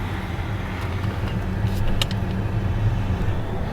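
Car driving along an empty road through Death Valley, a steady low engine hum and road rumble heard from inside the vehicle, moderately loud and even.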